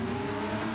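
Race car number 97 in a GTC-2 racing game at the Nürburgring drones past with a steady, loud engine tone, heard alone for under a second.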